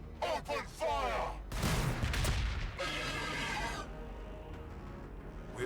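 Gunfire in the Warhammer 40k Battlesector video game: rapid bursts of weapons fire and booming blasts crackle loudly in overlapping volleys, with voices calling out in the battle.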